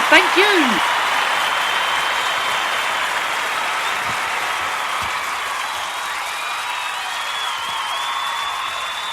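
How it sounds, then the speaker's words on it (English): Steady applause and cheering from a radio show's live studio audience fills the room, dense and sustained throughout, with a brief voice at the very start. "thank you very much for that wonderful round of applause"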